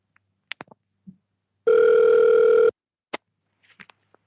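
A telephone rings once with a steady electronic tone for an incoming radio show caller, standing out loudly between faint scattered clicks and brief murmurs.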